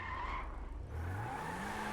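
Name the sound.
racing car speeding and skidding around a car park, video game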